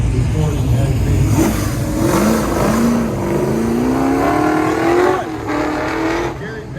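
A Shelby Super Snake runs an autocross course at Sonoma Raceway, its engine revving loud and close with rising and falling pitch as it accelerates and shifts, with tires scrubbing through the turns.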